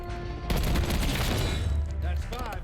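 Fully automatic AEK 973 fire in the video game Black Ops 6, a rapid continuous burst of shots lasting over a second, followed by quieter game sound effects.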